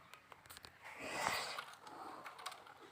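Typing on a computer keyboard: soft, quick clicking keystrokes tapping in an irregular run, faint and close, with a light breathy swell in the middle.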